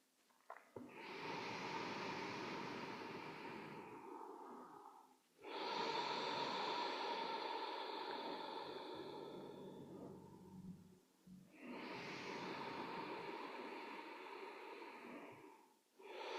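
Slow, deep breaths during a guided meditation, each long airy inhale or exhale close and soft, three in a row separated by brief pauses, with no talking.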